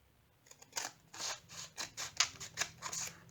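Scissors snip through diamond painting label sheets in a quick run of about eight crisp, close cuts, sharp and bright, with no talking.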